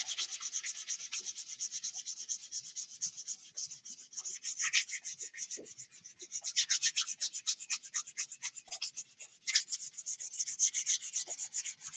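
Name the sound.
sanding paint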